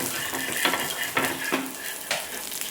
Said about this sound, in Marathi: हे बघा सहज कलथा घातला की थालपीठ निघतं